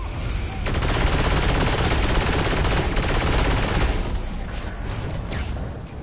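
Rapid automatic gunfire rattles loudly in Saints Row 4, a continuous burst of about three seconds followed by scattered shots and impacts in a busy game scene.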